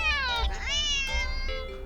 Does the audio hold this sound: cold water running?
no